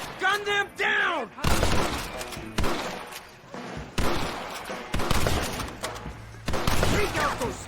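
Gunfire in a shooting video game: repeated bursts of rapid shots and booming blasts, loud and close, with sharp whooping effects near the start.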